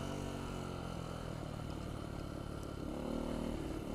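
A Beta 125 RR-S two-stroke dirt bike fitted with 14-tooth front and 65-tooth rear sprockets hums steadily while being ridden at lower elevation in Tennessee, a continuous buzzing engine note that rises slightly near the end.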